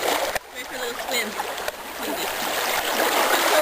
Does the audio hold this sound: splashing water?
yes